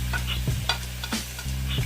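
Onion and garlic frying in a pan, a steady close sizzle with a low hum beneath and a few scraping stirs of a utensil against the pan.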